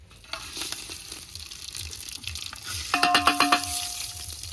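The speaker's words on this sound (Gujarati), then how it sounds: "તો મિત્રો આપણે તેલ ગરમ થઈ ગયું તો અંદર આ નાખી દેવું મસાલા" Spices sizzling in hot oil for dal bati, a loud continuous crackle that swells as they are stirred, with a run of quick metallic scrapes of a spoon against the pot near the end.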